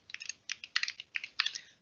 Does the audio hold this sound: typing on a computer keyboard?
yes